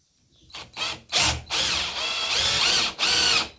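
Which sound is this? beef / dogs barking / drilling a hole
drilling a hole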